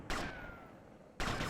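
Gunfire in the video game GTA Vice City, a loud burst of shots opening the clip, a quieter stretch with a faint ringing tone, then another loud burst near the end.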